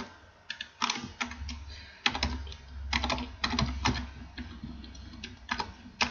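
Someone types a file name on a computer keyboard: close, uneven bursts of key clicks with short pauses between them, plus a soft low thud or two.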